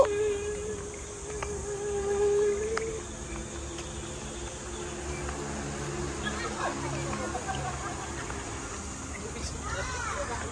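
Insects and crickets chirp outdoors in a constant faint high buzzing trill, with soft background noise and brief voices of a parent and small children now and then.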